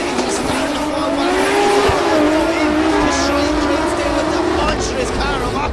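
Drift cars at an Oman drift championship round sliding through a corner, loud screaming engines and squealing tyres in a constant, dense roar, with a commentator talking over it.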